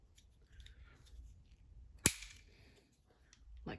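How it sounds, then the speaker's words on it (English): A single sharp snip as a piece of pneumatic hose is cut for a flow control on an animatronic build, close and crisp, over a quiet room hum. "I get some more hose, and then I cut a little bit of it for where the flow control is gonna go"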